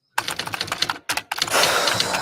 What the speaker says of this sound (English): This is my typewriter, though.